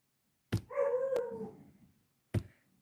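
A dog gives two sharp barks about two seconds apart, the first running into a drawn-out whining howl. Both are close and loud over a quiet background, with no talking.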